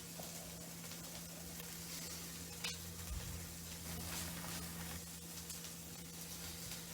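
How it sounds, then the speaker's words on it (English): An onion sweats in a pan for homemade beef stroganoff, giving a faint, steady sizzle with low kitchen hum throughout and a few small clatters. "I'm basically letting the onion sweat right now."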